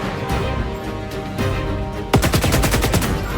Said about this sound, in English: You can hear the sound of almost like a machine whirring in between the bullet shots.